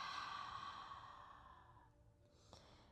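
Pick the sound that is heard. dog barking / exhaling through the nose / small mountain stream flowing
exhaling through the nose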